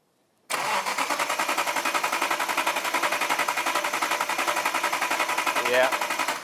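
A workshop engine fires up and runs after its timing is set to top dead centre, a loud, steady rapid chugging with regular pulses from start to finish.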